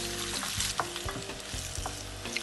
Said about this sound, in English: You can see that it is getting folded nicely into the olive oil, which is infused into chili flakes and garlic